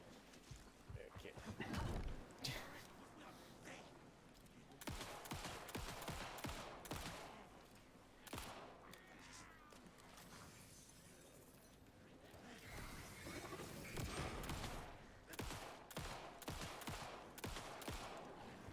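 Repeated gunfire from shooting enemies in the video game Alan Wake 2, sharp bursts and volleys recurring across the span amid game ambience, with a person talking over parts of it.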